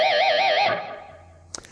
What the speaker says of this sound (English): It's that low E string pinched harmonic.